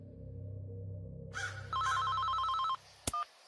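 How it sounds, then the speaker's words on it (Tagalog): A mobile phone rings after a low hum, a repeating electronic ringtone pattern that plays loud and close for about a second, then stops, followed by a sharp click. "Pagdilat ko palang tumunog na ang cellphone ko."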